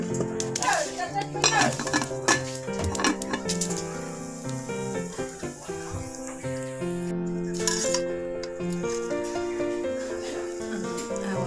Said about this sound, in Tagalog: Kilsan sa nato una ning atohang pilit guys.